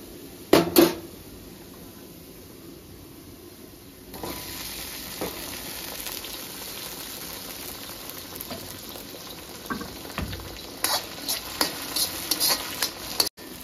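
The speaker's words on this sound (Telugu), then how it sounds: "ఇప్పుడు టమాటాలు వేసుకొని ఒక 2 నిమిషాలు ఫ్రై చేసుకొని తర్వాత చికెన్ వేసుకోవాలండి" Chopped tomatoes sizzle and hiss steadily in a hot pan of frying masala for green chicken curry, with scraping stirs and louder bursts of spattering toward the end; no one speaks.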